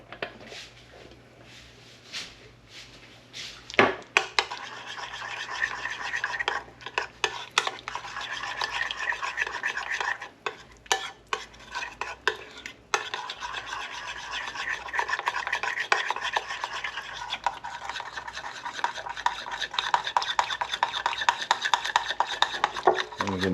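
Zucchini fritter batter being stirred by hand in a bowl, a steady scraping, rubbing mix that continues close up with brief sharper knocks against the bowl and no talking.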